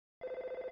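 In the video game Earthbound, a telephone gives one short, rapid trilling ring, a buzzy warbling tone lasting under a second, heard alone against silence.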